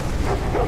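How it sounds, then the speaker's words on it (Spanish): A dog in The Walking Dead video game gives a brief, close bark-like yelp, a single short burst over game background noise. "El perro."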